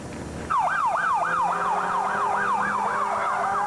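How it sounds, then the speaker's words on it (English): Rescue unit sirens wail with a steady rising-and-falling cycle during a Pennsylvania flash flood in Bucks County, loud and close, repeating continuously over a low rumbling background. "the wailing of rescue units desperately trying to help"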